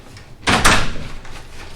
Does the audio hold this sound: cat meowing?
no